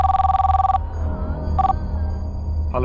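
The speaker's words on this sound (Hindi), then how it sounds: "शुभ्रा, देखो तो कहाँ फोन।" Telephone ringing indoors: a loud electronic warbling ring, then a second short burst after a pause, over a low steady hum.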